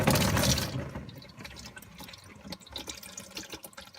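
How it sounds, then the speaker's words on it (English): Transmission fluid from a 2003–2004 Cobra drains out of the plug hole into a pan: a loud gush at first that fades into a thinner trickle with scattered drips. "we're just going to let all the transmission fluid drain out into the pan"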